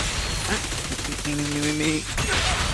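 Loud, dense gunfire rattles through a brief burst during Zenless Zone Zero combat, mixed with impacts and game effects.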